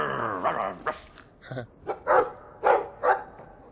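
Several loud, close dog barks and growls from a dog in the video game Dragon Age II, coming in uneven bursts over quiet game ambience, with a short yip among them.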